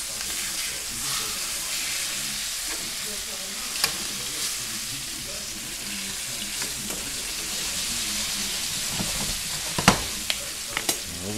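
Chicken thighs browning in a pan give a steady close sizzle and frying hiss, broken by a few sharp clicks and clatters near the end, with no talk.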